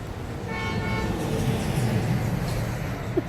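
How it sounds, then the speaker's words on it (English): A big truck rolls past on a semi-busy street, a steady, fairly loud low rumble that holds for the whole stretch, with a brief tonal whine riding on top early on. "Sorry, big truck going by."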